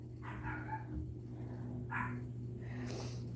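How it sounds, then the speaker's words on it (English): A dog indoors gives a few soft, short yips and barks in quick succession over a low steady room hum, fairly faint and close by. "So if y'all hear the dog barking, I have Valt's dog in here with me"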